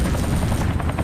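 A helicopter in the video game Mechwarrior 3 thrums loudly and steadily with a dense rotor chop, continuous and close throughout with no voices.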